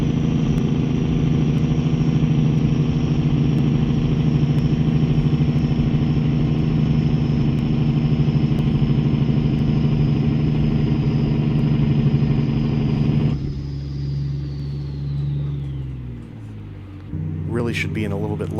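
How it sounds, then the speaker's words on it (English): A heavy truck's Jake brake in American Truck Simulator, a Peterbilt 389 hauling a Rogers lowboy downhill at about 50 mph, drones as a loud steady engine rumble for about thirteen seconds, then cuts off and winds down, with a voice talking over it. "We'll get on the Jake now. As we're going downhill a little bit."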